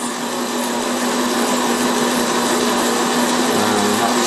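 Cheap Chinese mini grinder/engraver running at speed, a loud, steady high-pitched whine with a constant motor hum and no change in pitch, with no talking.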